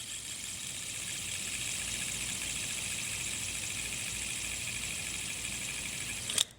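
An LED-lit fidget spinner's bearings spin with a steady, smooth whirring hiss that holds constant for several seconds before a brief click as it stops.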